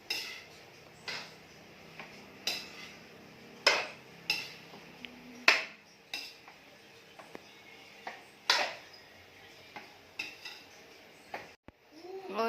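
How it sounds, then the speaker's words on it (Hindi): A laddu mixture is roasted in ghee in a kitchen pan, with a spatula giving repeated metallic clinks and scrapes about once a second over a low steady background, close by and with no voices. "फिर इसको घी में मिला के और सेक रहे हैं"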